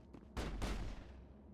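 High explosive rounds firing in the video game Mass Effect: two heavy, booming blasts in quick succession, loud and close, each trailing off into a rumbling decay.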